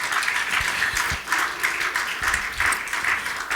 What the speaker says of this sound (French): On peut acclamer notre Dieu